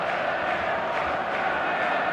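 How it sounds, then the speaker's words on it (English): A stadium crowd on match day in eFootball gives off a dense, continuous roar of massed voices at a steady level, heard on its own with no commentary over it. "This crowd doesn't do ordinary"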